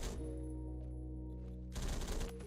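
HK-51B rifle firing in the video game Phantom Forces, a rapid automatic burst at the start and another loud burst near the end, over constant loud game background noise.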